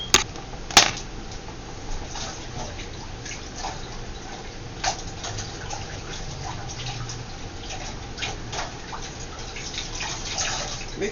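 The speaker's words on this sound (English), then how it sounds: "let me just wash my hands for a minute, guys" Tap water runs steadily at a kitchen sink while hands are washed, a continuous close splashing hiss with a few sharper drips and knocks near the start.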